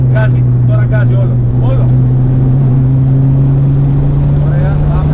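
A GT3-class race car engine on the Serres circuit drones loudly at full throttle, a steady high-revving tone with rising harmonics, while an instructor speaks in Greek over it.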